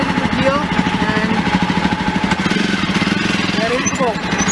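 A Jawa Perak motorcycle engine runs after a kick start, thumping in a steady fast rhythm that stays loud and close throughout, with a voice talking over it.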